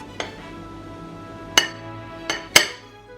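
A serving spoon clinks against a plate as cooked quinoa is spooned into the centre for a Caribbean pepper pot stew: four sharp, separate clinks, close by, with no talking.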